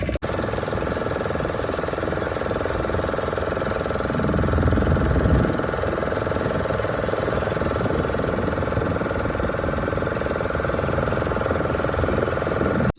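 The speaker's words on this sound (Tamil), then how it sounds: "Boat ride." Boat engine running steadily at sea during a fishing ride, a loud, close, continuous droning rumble with mechanical chatter that holds level throughout.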